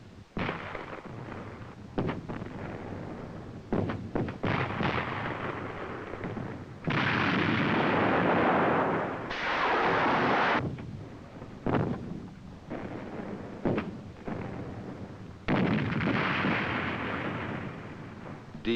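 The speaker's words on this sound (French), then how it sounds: "Je suis sous le feu de l'artillerie" Artillery fire from a 1972 Swiss army infantry combat training film: repeated heavy booms and long rolling blasts follow one another almost without pause, loud and dense, with no voices.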